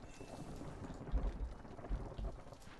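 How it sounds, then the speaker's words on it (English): Steady rain pours in a stormy scene from the video game Against the Storm, a dense hiss with low rumbling swells, moderately loud and continuous with no talk. "we'll have more as soon as the next storm comes, which is right now"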